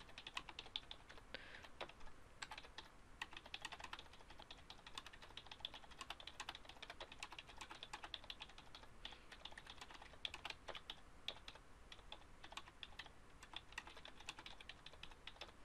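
Someone types a comment into a document on a computer keyboard, a quiet, steady stream of rapid key clicks, close and alone, running for the whole stretch with brief pauses.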